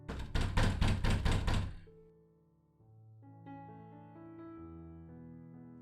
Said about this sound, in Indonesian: Tiba-tiba pintu digedor dari luar.